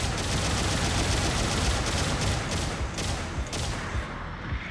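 Rapid gunfire from a mech weapon in a Gundam video game, such as Casval's Gundam, rattling in a dense sustained burst of repeated shots that is loud and continuous before easing near the end.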